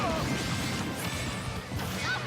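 Down smash attacks land in a doubles match of a fighting video game, as several sharp crashing hits and quick whooshes in close succession over busy game sound.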